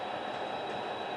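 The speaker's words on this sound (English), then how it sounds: "now the train runs in from the Helix" A model train running along layout track out of a helix, giving a continuous close rolling rumble with a thin high squeal over it, steady throughout.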